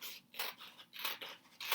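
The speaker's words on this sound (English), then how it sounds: "We're going to cut all around the pumpkin" Scissors snip through black paper while cutting around a pumpkin shape, roughly six quick crisp cuts in an uneven rhythm, close and fairly quiet.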